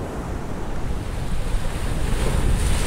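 Surf along the icy Weddell Sea coast rolls as a broad, steady rush mixed with wind buffeting the microphone, swelling slightly louder toward the end, with no voices.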